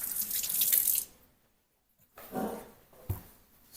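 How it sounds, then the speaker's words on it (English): Water runs from a sink tap over washing hands, a steady close splash for about a second, then a pause before more brief splashing and a soft thump. "Now we're gonna wash our hands since we touched an animal."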